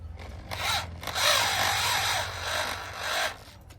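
Power drill tightening a fitting on a DTH satellite dish, giving several short bursts of whirring and grinding that rise and fall close by, with brief pauses between them.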